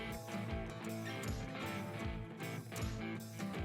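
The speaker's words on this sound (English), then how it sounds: "It blows seed into the planter." A seed tender runs, blowing seed into a planter, with a steady mechanical whir and a rhythmic clatter of moving parts repeating about every half second, close and continuous.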